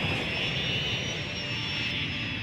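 An airplane taking off in the city-building game Cities Skylines, a loud, steady engine roar with a high whine running through it, continuous and close, with no voices.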